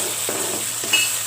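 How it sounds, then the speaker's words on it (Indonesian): Petai beans being stirred into frying sambal, a steady close sizzle with two soft scraping strokes of the spoon through the pan, no talking. "Kemudian kita masukkan yang terakhir ya, petainya. Kita aduk rata."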